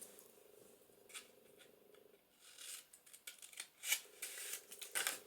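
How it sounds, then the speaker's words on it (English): Scissors snip a straight piece off a sheet of paper, a run of short crisp rasping cuts that grow louder toward the end, close by with no talking. "And I'm going to cut that straight"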